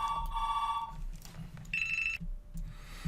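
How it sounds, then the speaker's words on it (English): A telephone rings in two bursts of electronic trilling tones, fairly clear against a steady low room hum, with no talk over it. "you may have heard the phone ring there"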